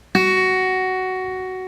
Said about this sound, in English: Middle finger goes on the high E string on the 2nd fret,